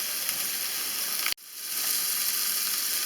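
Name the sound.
lamb sausages frying in a pan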